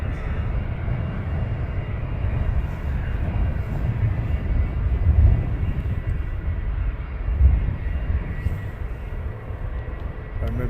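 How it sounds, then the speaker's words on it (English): An executive jet takes off at Luton Airport with a loud, continuous roar of its engines, holding steady throughout and swelling slightly at moments, heard from close range with no talk. "And that last executive jet was from Manchester"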